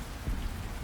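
Steady icy rain ambience plays as a tabletop role-playing soundscape, a dense, even hiss of falling rain with low rumbling beneath, constant through the brief moment with no voices.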